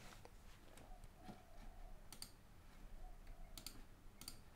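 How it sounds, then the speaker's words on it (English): Sharp computer mouse clicks while the screen is cleared, quiet, close and scattered irregularly, sometimes in quick pairs, over a faint background hiss. "Sorry for clicking, I'm just clearing some stuff that was on my screen"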